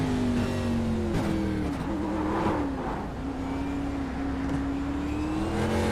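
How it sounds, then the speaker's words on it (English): Roval NASCAR stock car engine in iRacing from the No. 22 Butterfinger car, loud and continuous near onboard roar, pitch dipping on lift-off then climbing again under steady throttle. "I'm on board 22 Butterfinger car."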